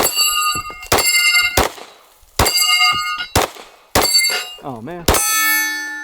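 Glock 19X pistol shots ringing off the steel plates of a Texas Star target, a rapid series of sharp metallic clangs with short gaps and a final longer ring, followed by a brief spoken remark.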